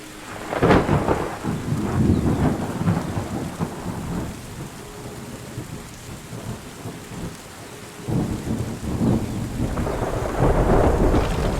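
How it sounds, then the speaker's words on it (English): Steady rain patters throughout while deep rolls of thunder rumble in and out, swelling loudly near the start and again toward the end, from a video game. "the rain sounds are real nice"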